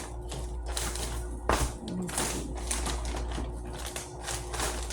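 Playing cards get pushed back into their box with scattered papery taps, scrapes and small knocks over a steady low hum, close and fairly quiet.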